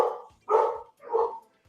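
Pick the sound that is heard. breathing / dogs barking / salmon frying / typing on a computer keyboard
dogs barking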